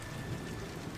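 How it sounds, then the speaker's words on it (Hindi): Heavy, dense rain pours steadily with a deep rumble of thunder underneath, a loud, unbroken wash of storm noise with no voices. "तभी बहुत जोरों से बारिश शुरू हो जाती है"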